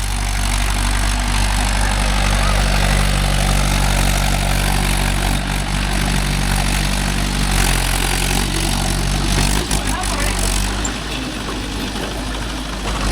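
A Mahindra 575 DI tractor pulls a 5-point cultivator through farmland, its engine a loud, steady, close mid-pitched chug throughout with slight variations in load and no talk.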